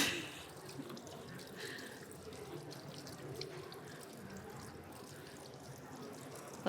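Tap water runs steadily into a kitchen sink while sticky hands are rinsed, a continuous close splashing and hiss that lasts throughout with small drips and splatters.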